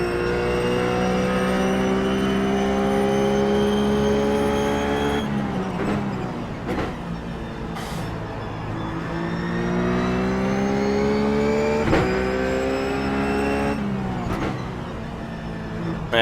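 Ruf GT3 race car engine at Watkins Glen in iRacing, droning loud and steady with harmonic pitch climbing through the gears, sharp shift cuts around five, twelve and fourteen seconds, continuous throughout with no talk.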